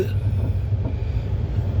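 A GT Express passenger train rolls through a railway station, a steady low rumble of wheels and carriages heard from on board, continuous and fairly loud.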